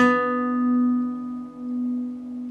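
A single guitar note picked on the A string at the 14th fret, the opening of a song's intro, rings out clearly and sustains alone for a couple of seconds as it slowly decays.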